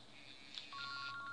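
An outbound call placed from a CRM dialer for Microsoft Dynamics CRM gives a short run of quiet telephone dialing tones, a brief blip followed by a steady held tone, faint and alone.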